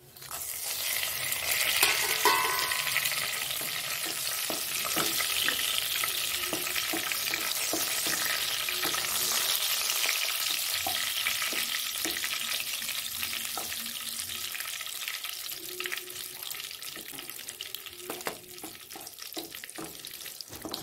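Cumin seeds and chili frying in oil in a pan throw off a continuous dense sizzle with light crackles and occasional utensil scrapes, close and steady for the full stretch.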